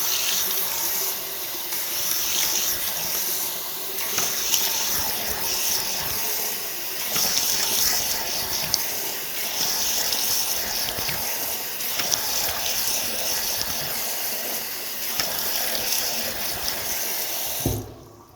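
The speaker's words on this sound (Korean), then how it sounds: "얼굴을 먼저 씻어 보겠습니다." Tap water runs steadily into a sink during face washing, a continuous hissing splash with small splashy bursts as hands move through the stream, cutting off abruptly at the very end.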